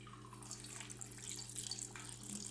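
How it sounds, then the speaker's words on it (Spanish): Fresh water streams steadily from a kitchen tap into a pot for boiling yuca, a continuous hissing splash at moderate level with no talk. "Vamos a poner la agüita nueva."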